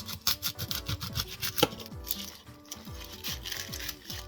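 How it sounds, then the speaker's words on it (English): An onion is chopped in The Sims 4, a rapid run of knife taps on a cutting board mixed with a stylized game soundtrack and sweeping tones, steady and moderately loud. "Now we're gonna cut our onion"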